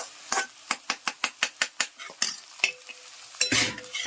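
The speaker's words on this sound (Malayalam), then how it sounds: "അതിട്ട് നമ്മളൊന്ന് ഇളക്കി കൊടുക്കും" Spoon scraping and clanking against a pot while beef curry is stirred, a quick run of sharp regular knocks followed by slower irregular scrapes, close and clear with no talk.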